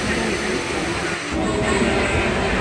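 Steady interior rumble of a passenger train ride toward Khatima station in India, a continuous low clatter and hum with a faint high whine, holding level throughout with a brief dip midway.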